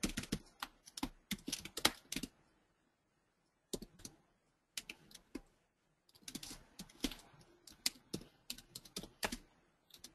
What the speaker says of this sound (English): Let's hope I typed everything correctly.